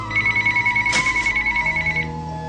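A phone rings back through the handset while a man calls his wife, a steady warbling ringback tone pulsing rapidly for about two seconds, then stopping.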